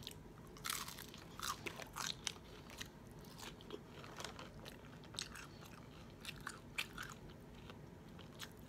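Close-up mouth sounds of someone eating a cheese taco at a Tex-Mex mukbang, with crisp shell crunches and bites in an irregular rhythm followed by soft chewing, quiet and without talk.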